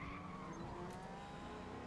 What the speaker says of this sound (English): I start losing control and the car just goes completely sideways